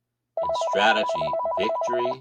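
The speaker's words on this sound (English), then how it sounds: "So I am sorry that the phone rang." Telephone ringing in a lecture room, a rapid electronic trilling ring repeating steadily and loudly, overlapping someone speaking.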